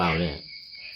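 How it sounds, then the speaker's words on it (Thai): Frogs calling near a home in Bangkok's Rat Burana district, a steady high trilling chorus at a moderate distance that continues alone after a brief spoken voice at the start. "กบมีเขียดร้องอยู่นี่"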